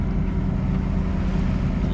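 Sailboat diesel engine running steadily while motoring at sea at dawn, a constant loud low drone with a hum that holds without change and has no voices over it.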